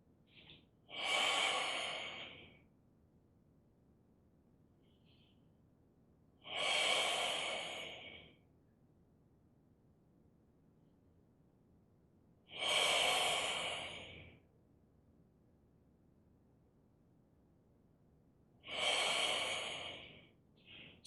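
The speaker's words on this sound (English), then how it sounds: "Your breathing should be comfortable, and that's going to determine how you open and close." Slow, deep breaths during a Hunyuan qigong movement, four long airy breaths evenly spaced about six seconds apart with quiet pauses between, close and alone with no talking.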